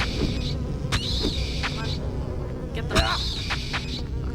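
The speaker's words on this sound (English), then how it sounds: "Oh, bugs. Stay away from me." Bugs buzz loudly and close in Silent Hill 4, in swelling bursts of droning wings that come and go over a low, murky ambient hum.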